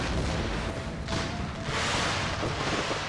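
Artillery return fire in a Civil War-era Brothers vs. Brothers mod of Empire: Total War, heavy booming cannon blasts overlapping in a dense, rumbling barrage with no speech.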